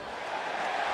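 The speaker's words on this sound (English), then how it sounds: "And listen to the roar. Crowd is pleased." Stadium crowd roaring at a college football game between Tennessee and Alabama, a dense, steady wash of cheering voices filling the whole moment with no single voice standing out.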